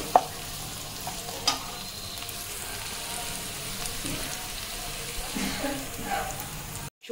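Onions fry and sizzle in a pan while a utensil stirs them, giving continuous crackling with scraping strokes and a few sharper clinks. A voice is briefly audible in the background.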